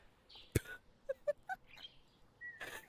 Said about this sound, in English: This massive ass fucking yellow ass bird just came out of nowhere and just started squawking